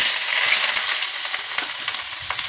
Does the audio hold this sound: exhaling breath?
no